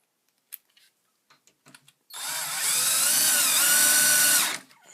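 A power drill drives a screw into a wooden router table, running loud and steady for about two seconds after a few light clicks and handling taps.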